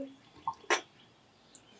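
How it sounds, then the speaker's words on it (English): Water poured into a small container holding plant cuttings, heard as a brief liquid splash with a few soft drips, close and quiet in an otherwise still room. "I can pour the water in"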